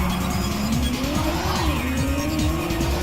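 In a racing video game, race cars drift and their tires squeal continuously as engines climb in pitch. The sound is loud and dense, with overlapping engine revs and skidding and no voices.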